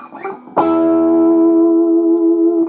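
A single distorted electric guitar note, an E on the D string, struck sharply and held for about two seconds with vibrato, ringing loud and alone.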